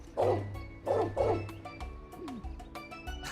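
A dog barks in the video game Trails Beyond the Horizon, three quick close barks followed by softer yips and a whine over a steady game music background.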